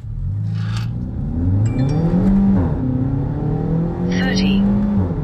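Car fitted with a JB4 tuner accelerating hard on a quarter-mile run, engine note climbing steadily through the gears, loud and close inside the cabin with voices talking over it.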